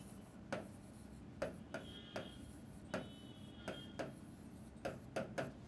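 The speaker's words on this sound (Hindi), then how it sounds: "दूसरा पॉइंट हम लिखेंगे" Pen or marker writing answer points during a Hindi lesson, scratchy strokes tapping and rubbing at an irregular rhythm across a board or page, close and fairly quiet over a faint room hiss, with no talking.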